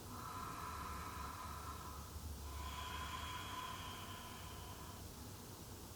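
A slow, audible inhalation during a guided breathing and relaxation exercise, soft and close, rising gradually over several seconds against a quiet background hiss.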